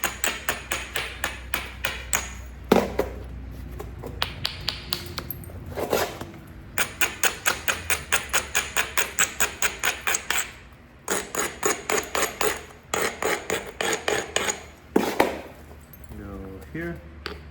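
Alabama Coastal chert is struck again and again while being bifaced by flintknapping, sharp stony clicks and taps in rapid rhythmic runs broken by brief pauses, close and crisp.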